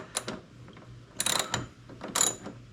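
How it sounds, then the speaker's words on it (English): Three bursts of ratchet wrench clicking, close and fairly loud, while working on a 1979 Corvette engine during camshaft break-in, with short pauses between the turns and no talking. "And by thing, I mean ratchet."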